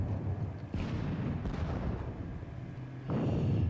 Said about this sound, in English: The Russian artillery is certainly taking its toll as I lose another gun.